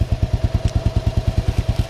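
Buell Blast motorcycle, its engine half of a Harley-Davidson Sportster, idling with a loud, rhythmic low thumping and a rattle from the foot pegs and belt, close and steady without talk.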